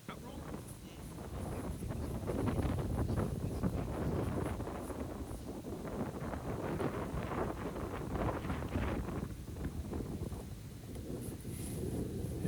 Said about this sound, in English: you can hear that wind blowing in the camera